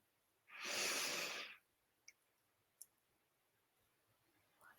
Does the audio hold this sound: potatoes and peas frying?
no